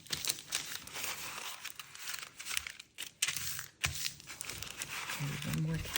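Parchment paper crinkling and crackling as it is folded over and over for a faux corn husk wreath, close rustles in bursts with talk in between.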